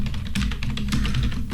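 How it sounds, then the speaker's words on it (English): Rapid, close typing on a computer keyboard, a busy run of crisp key taps in quick irregular rhythm over a low background hum, with no voices. "typing in something there"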